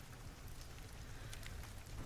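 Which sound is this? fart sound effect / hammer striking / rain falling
rain falling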